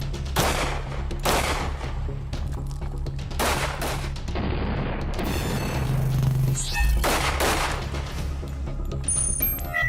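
Several loud, sharp gunshots from a .45 pistol firing 230-grain rounds at an armored Mercedes-Benz W140, spaced irregularly across the stretch with ringing decay and some clatter between shots.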